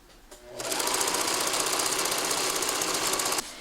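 A sewing machine stitches the top of a vintage blouse made from the Virginia pattern, running in one fast, steady burst for about three seconds, then stopping abruptly.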